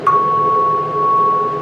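A single bright tone chime struck once, ringing out as a clear sustained C sharp that holds steady and slowly decays.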